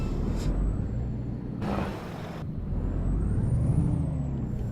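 A semi-truck in American Truck Simulator: a steady low engine idle rumbles throughout, cut by short bursts of hissing air, close and continuous with no talk.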